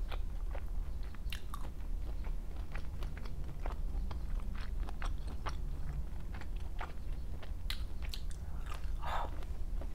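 Close, crisp biting and wet chewing of fresh Florida pink shrimp, with repeated crunchy bites and steady mastication continuing throughout, no talking.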